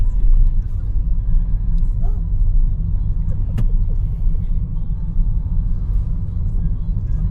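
A Toyota Sienta V CVT with about 65,000 km on the odometer driving on an Indonesian road, its low steady engine and tyre rumble continuous throughout with a faint brief click midway.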